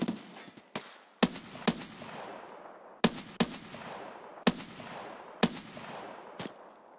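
Automatic rifle fire in Escape from Tarkov, with several sharp, loud bursts of shots spaced a second or so apart, each trailing off into a long echoing tail outdoors.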